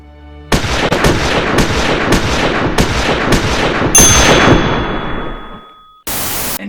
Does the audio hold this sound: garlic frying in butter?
no